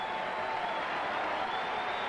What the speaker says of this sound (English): The crowd is alive.